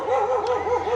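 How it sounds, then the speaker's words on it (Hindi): Dogs barking at another pack of dogs, a drawn-out warbling yowl from a dog nearby, with a brief higher yelp partway through. "यहाँ पे जो डॉग्स हैं they are trying to bark over some other set of dogs"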